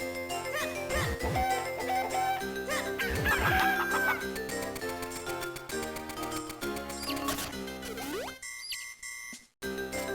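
Chickens in Legend of Zelda: The Minish Cap clucking and crowing amid busy game music and chiming effects, bright repeated calls layered over the score before the sound drops away near the end.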